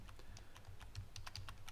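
Keyboard shortcuts are tapped on a computer keyboard: a quick, uneven run of soft, close key clicks and presses, quiet and without speech.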